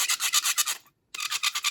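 Ink roller rubbing back and forth over a printing block, close and steady in short rhythmic strokes, a brief pause, then the rolling resumes; no talking.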